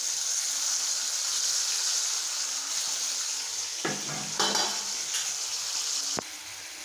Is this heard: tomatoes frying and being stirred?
yes